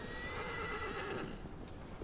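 Horse in the game Shadow of the Colossus Remake, a quiet whinny over soft clip-clopping hooves, faint and steady in the background with no talking.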